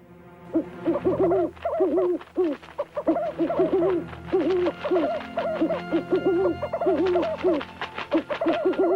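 Cartoon owls in an animated Akbar and Birbal story give repeated rhythmic hooting calls in quick bursts, loud and close, with short pauses between phrases.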